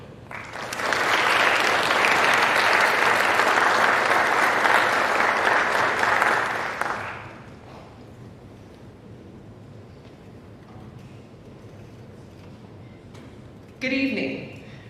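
Loud, dense applause from an induction ceremony audience fills the room for about six seconds, then fades to a quiet hall.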